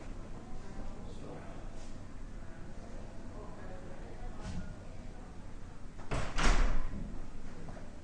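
A door pulled shut in a room with thin doors gives a loud broadband thud near the end, after scattered faint knocks and shuffling under a low room hum.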